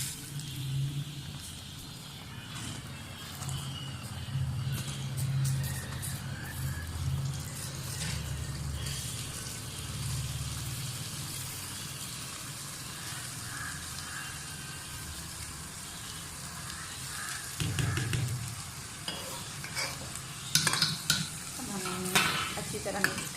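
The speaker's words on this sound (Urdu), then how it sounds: "شیرہ ہمارا تیار ہو چکا ہے، اب ہم اس میں چاول ڈالیں گے۔" Rice tipped into sweet sugar syrup in a pot and stirred, a steady bubbling sizzle with soft scraping and clinks that grow busier toward the end, with no talking.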